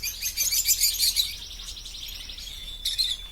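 Gouldian finches and canaries chirp and tweet busily in an aviary, a dense high twittering that fills the first half, softens, then bursts up again near the end; no voices.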